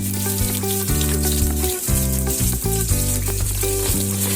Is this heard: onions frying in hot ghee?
yes